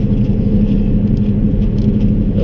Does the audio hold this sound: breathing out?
no